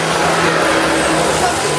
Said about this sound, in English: he was really making himself known to his friends there by wheel spinning all around the dirt